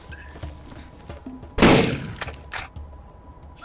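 A Dahl shotgun in the Borderlands game fires one sharp, loud blast, with fainter clicks and clatter around it and a second, weaker burst shortly after.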